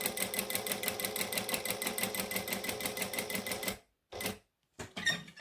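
A sewing machine stitches steadily at a rapid, even rhythm for nearly four seconds, then stops, with two brief short bursts of stitching after the needle-down pivot around an edge, close and clear with no talk.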